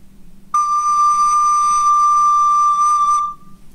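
A recorder sounds a single steady D note, with the player's thumb resting on the instrument, held clear and close for about three seconds before stopping cleanly.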